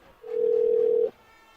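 A telephone tone on a call placed during a varsity football broadcast, one steady, clear electronic beep lasting under a second against quiet surroundings.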